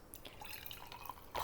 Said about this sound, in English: I'm going to squeeze out the moss so that it's kind of like a wrung out sponge.